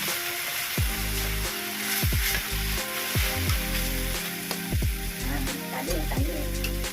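Steady loud sizzle of cooked rice frying in a pan for sinangag, Filipino garlic fried rice, with repeated scraping and stirring strokes of a utensil against the pan throughout.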